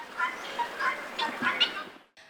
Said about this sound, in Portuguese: suas tradicionais galinhas da Angola